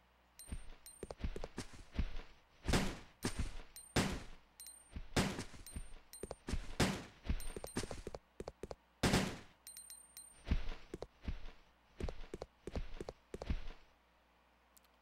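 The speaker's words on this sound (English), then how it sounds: "Trying to fire at off-screen moths is quite difficult and quite infuriating." Gunfire at moths in Resident Evil Code: Veronica, sharp shots fired repeatedly in irregular bursts across about fifteen seconds, loud and close, with brief quiet gaps between volleys.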